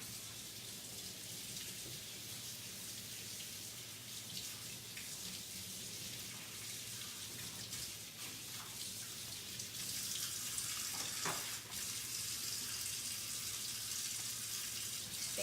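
Running water from a sink tap rinsing off a chalk transfer, a steady hissing splash that keeps on without pause and grows slightly louder toward the end, with a brief clatter near the close; no voices.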